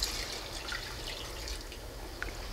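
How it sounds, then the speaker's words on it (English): About four cups of water poured into red lentils and brown basmati rice for kitchari, a soft steady trickle with faint drips, quiet and close, with no talk. "then we're going to add some water. This is about 4 cups of water."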